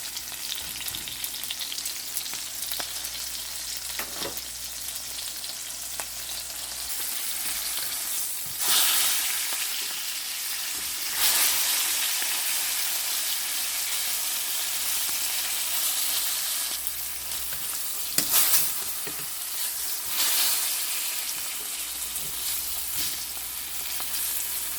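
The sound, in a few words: dried fish frying in a pan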